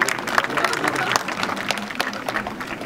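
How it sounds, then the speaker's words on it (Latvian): An audience at a school opening-day ceremony applauds trainee secretaries with a burst of lively, fairly close clapping that continues steadily throughout. "Aplausas arī viņām."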